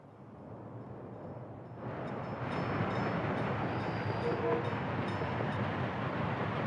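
A train arrives in the city-building game Workers & Resources, with a soft rumble swelling after a quiet start into a steady, moderately loud rolling roar that holds to the end.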